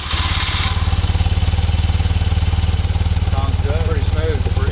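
A 1974 BMW R90S motorcycle engine idles steadily right after a cold start, following a couple of weeks of sitting, with an even, rapid low thumping throughout and a voice briefly talking over it near the end.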